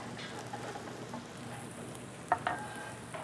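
Carrots sauté with garlic and onions in a pan, making a quiet, steady sizzle with a few sharp clinks and stirring knocks near the end.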